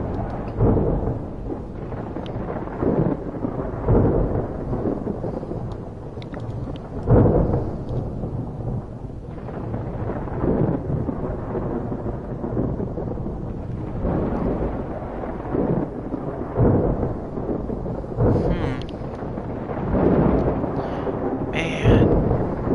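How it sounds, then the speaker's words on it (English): Heavy thunderstorm in the video game Escape from Pertam, steady loud rain with repeated rolling thunder cracks through the whole stretch, a few brief electronic game tones near the end. "That is one hell of a storm, guys."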